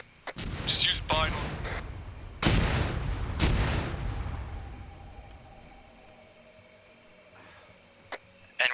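Mortar shells explode close by in a military video game, two heavy booming blasts landing around the middle, with earlier sharp impacts and a trailing rumble fading away, followed by a couple of faint later hits.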